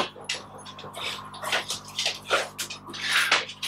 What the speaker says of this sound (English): I'm just wetting my face